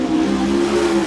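A USAC national sprint car roars through a qualifying lap at Rossburg, its engine a loud steady high-revving drone with a strong sustained tone, no voices over it.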